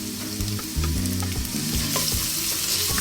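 Garlic sautés in hot oil in a frying pan, a loud continuous sizzle with occasional spatula taps, and a low tonal background hum running underneath.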